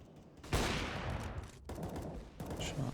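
Gunfire in Counter-Strike on the Train map: a sharp burst of shots opens a sustained volley, followed by two more bursts after a short gap, fairly close and loud with no talking.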